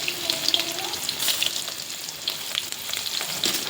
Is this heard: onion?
yes